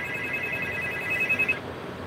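A phone rings with an incoming call as a thin, steady electronic tone that pulses for about a second and a half and then cuts off, with faint room noise beneath.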